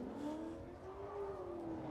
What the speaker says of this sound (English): Definitely a rowdy BMW. Those E36s got a lot of parts